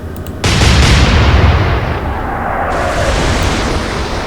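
A naval artillery gun fires in Atlantic Fleet, a single heavy boom breaking into a loud, sustained rumbling roar that stays close and powerful.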